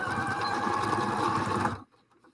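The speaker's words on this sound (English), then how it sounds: "I can stop right here on a single stitch and make an adjustment if I need to." A sewing machine runs steadily at a fast clip, a dense continuous mechanical whir of stitching for almost two seconds, then cuts off abruptly into near silence.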